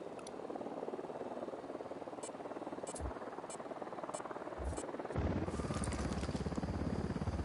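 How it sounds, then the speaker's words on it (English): A helicopter approaches in the video game Ghost Recon Wildlands: a steady whirring engine drone that swells noticeably louder and fuller partway through, with no talk. "Chopper's approaching."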